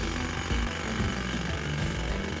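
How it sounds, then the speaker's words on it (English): Jackhammers pound in the video game The Silver Case, a steady loud mechanical hammering with low thumping bursts roughly every half second, running continuously with no talk. "They're just killing a bunch of people with jackhammers."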